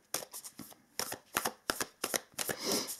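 Oracle cards shuffled in quick, crisp bursts of riffling and flicking, a close, steady run of papery snaps and slides with no voices.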